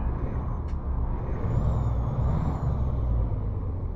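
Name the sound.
Freightliner FLB truck engine starting, from American Truck Simulator video game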